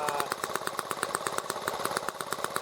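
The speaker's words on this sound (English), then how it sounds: "the engine warmed up for about 5 minutes" A small carbureted engine idles after about five minutes of warm-up, a steady close putter of rapid even pulses holding at a constant loud level with no talk.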